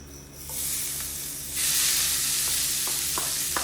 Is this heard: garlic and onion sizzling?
yes